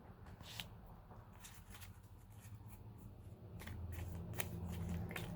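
Tarot cards shuffled by hand in a steady, continuous riffling and rubbing, close and soft, growing slightly fuller toward the end.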